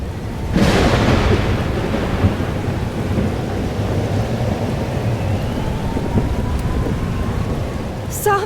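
A thunderstorm with rain in the game Life is Strange Double Exposure, beginning with a sharp thunder crack and continuing as loud, dense, steady rainfall with rolling low rumble throughout.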